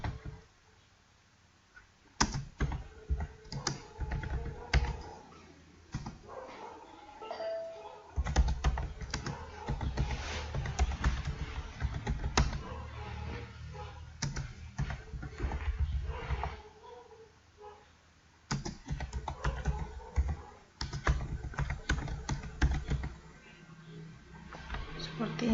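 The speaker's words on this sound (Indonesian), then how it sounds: "Kita ketik manual," Keys clatter on a computer keyboard in quick irregular bursts with short pauses, close and crisp, while a person talks intermittently over the typing.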